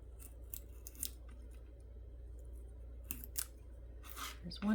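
Scissors snipping through corrugated cardboard, a few sharp crisp cuts spaced apart and heard close up, with a louder thump at the end.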